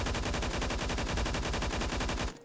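Rapid, sustained full-auto bursts from an AUG HBAR rifle in the shooter game Phantom Forces, loud and evenly spaced shots with no pauses, ending abruptly.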